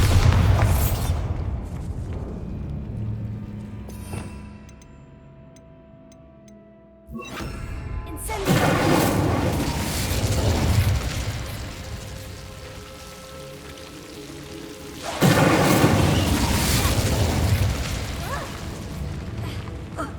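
A Bombarda explosion spell in the video game Hogwarts Legacy, heard as deep booming blasts with crumbling, rain-like debris. A loud burst comes early, a dip follows, then another heavy boom and a sustained rumbling wash.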